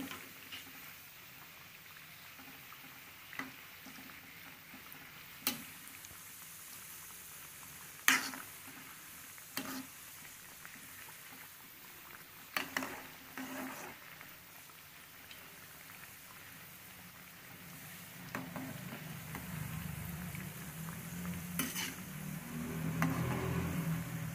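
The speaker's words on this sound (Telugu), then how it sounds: "ఫ్లేమ్ తక్కువ చేసుకుని వేసుకున్నాం కజ్జికాయలు" Kajjikayalu stuffed with dry fruits fry in oil on a low flame, a faint, steady crackling sizzle with scattered pops that thickens and grows a little louder toward the end.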